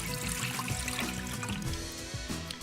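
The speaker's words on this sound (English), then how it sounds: "I'm gonna go ahead and add our liquids first" Liquids poured into a blender for a smoothie, a steady close trickle and splash running without a break, no talking.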